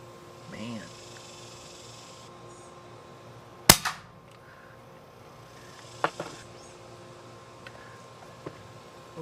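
Umarex Notos .22 compact PCP air rifle firing outdoors: one sharp loud crack, followed by two fainter pops several seconds apart, over a quiet hum of background noise.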